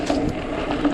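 Gear shifting on a 2019 Trek Slash 8 29-inch mountain bike, a steady run of close mechanical ratcheting clicks over continuous rolling drivetrain noise.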